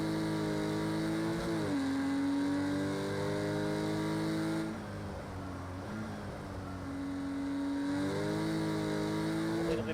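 A Porsche GT4 race car engine in Project CARS 2 at Fuji GP, loud and steady, its revs climbing through gears with brief dips at upshifts, heard alone without talk.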